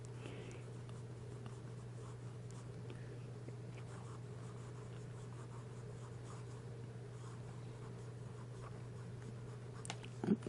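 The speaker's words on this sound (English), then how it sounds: "now we'll get to writing" A Montblanc Legrand fountain pen nib moving across paper gives a soft, continuous scratch, faint against a steady low hum, with a slightly louder rustle near the end.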